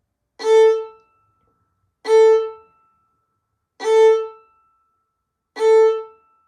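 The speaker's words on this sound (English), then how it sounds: "Set your bow on the A string, and I'm gonna demonstrate 4 poofs so you can hear what they sound like" Four short, evenly spaced bowed notes on a violin's A string, each a soft swelling puff that fades quickly, played alone with silence between.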